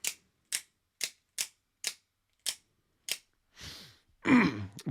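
A Schrade Uproar out-the-front knife snaps its blade out and back with seven crisp, evenly spaced metallic clicks, close and alone, followed by a brief rustle and a louder handling scrape.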